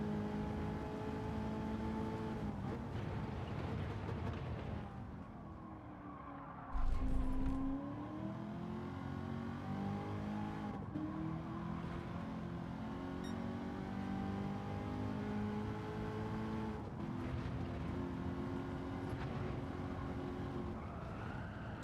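Race car engine in a racing video game time trial, revving steadily and rising in pitch as it accelerates through gears, with a brief low thump midway, loud and continuous throughout with no talking.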